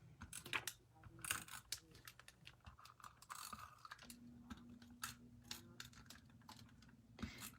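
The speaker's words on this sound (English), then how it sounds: "I will be adding this with some tape runner." A handheld tape runner laying adhesive on acetate for a craft project gives quiet, close ratcheting clicks in irregular bursts, with a faint steady hum underneath.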